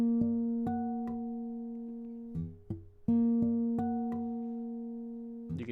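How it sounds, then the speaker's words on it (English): Bell-like guitar harmonics ring on the 7th fret of the B string, plucked one after another in two short runs of sustained chiming tones, clear and close with no voice over them. "You can hear that harmonic on the 7th fret of the B string, which is nice"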